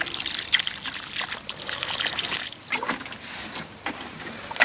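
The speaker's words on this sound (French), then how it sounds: "Un coup d'arrosage." Water trickles and splashes unevenly over newly transplanted courgette seedlings in a garden bed, in several short pours and dribbles, close and fairly quiet, with no talking.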